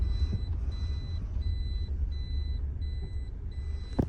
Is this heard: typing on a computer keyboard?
no